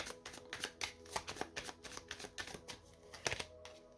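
Lenormand cards shuffled by hand in a steady run of quick, crisp riffling flutters, close up and fairly loud, with no voices.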